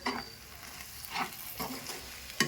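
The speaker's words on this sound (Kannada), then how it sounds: "ಹಾಕಿ ಇದನ್ನೆಲ್ಲವನ್ನು ಚೆನ್ನಾಗಿ ಮಿಕ್ಸ್ ಮಾಡೋಣ." Garam masala is stirred into a frying country chicken dum biryani mixture in a pot, soft sizzling under a few distinct scraping stirs of a spoon against the pan, with a sharper clink near the end.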